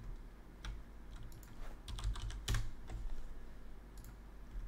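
Fingers type on a computer keyboard during an Eve Online session, irregular clusters of light clicky keystrokes with a sharper tap near the middle, close but quiet, with no speech.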